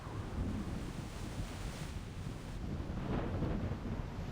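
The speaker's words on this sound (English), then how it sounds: "Well, that's the storm" A video game storm rumbles with wind and low thunder, a steady broadband roar that swells slightly near the end, moderately faint and without talk.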